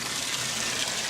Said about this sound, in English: We are filling up the horse and cow water for them right now.